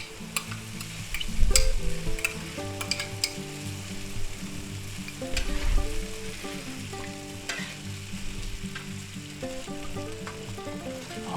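Pork lo mein sizzling and frying in a pan with soy and oyster sauce, steady loud hiss with stirring clatter and occasional pops, over soft background music and no speech.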